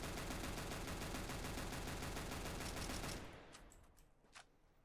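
Rapid, loud Five-Seven pistol fire in a video game, a dense continuous barrage of shots for about three seconds that cuts off abruptly, followed by quieter scattered impacts.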